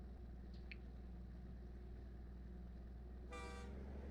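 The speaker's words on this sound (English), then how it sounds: "We got some trains bringing some copper over." A train in the Captain of Industry strategy game hauls copper, its low rumbling movement running steadily throughout, joined near the end by a short horn toot.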